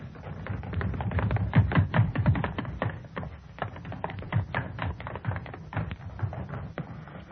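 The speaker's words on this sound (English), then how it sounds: "I want running footsteps, all three of you. Across the studio floor, up the stair steps." Three performers make running footsteps for a radio drama effect, crossing a studio floor and going up stair steps: a rapid, irregular patter of many taps and thumps, close and continuous, without talk.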